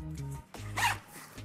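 A backpack zipper is pulled open in a quick rasping burst, close and fairly loud, with low background hum before and after and no talking.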